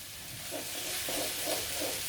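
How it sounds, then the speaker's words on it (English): Tomato paste frying in a hot pan gives a steady, close sizzle with soft bursts of crackle and stirring scrapes running throughout, alone with no talk. "We want to fry it a little bit so it can take a little bit of smoky taste."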